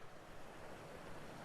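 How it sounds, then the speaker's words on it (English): Floodwater pours over a spillway at Mt Wilson Ranch, a steady broadband rushing roar with no breaks, moderately faint and unbroken throughout. "This is totally flooded over, man. Look at that. Spillway's running."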